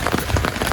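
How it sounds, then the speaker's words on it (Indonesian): Rain pattering steadily on a Bassic Antares 4 tent, heard from inside as a dense, even hiss of drops on the fabric, loud and close throughout the short stretch with no voices. "udah 25 menitan hujannya gue di dalam tenda ini."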